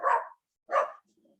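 A dog barks twice in loud, close bursts during an interview, with only faint rustling afterward.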